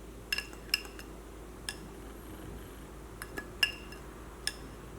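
A tablespoon scooping rice flour, heard as a series of light metallic clinks and taps of spoon against a container, scattered and fairly faint over a quiet background.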